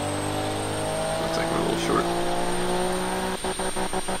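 A car engine in the Automation game idles with a steady, layered tonal hum and a few short rev blips near the end, heard softly under someone talking.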